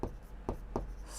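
A pen writes numbers by hand on paper during a maths lesson, making three short, faint scratching strokes spaced a fraction of a second apart.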